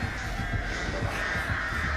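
The Artist's crows caw in a competitive match of a video game, a rapid, rhythmic run of harsh caws over a dense, hissing bed of game sound.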